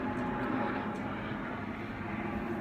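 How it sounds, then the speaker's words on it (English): A jet plane passes overhead, a steady broad roar that holds for several seconds, heard from indoors at moderate level with no break. "That's a jet."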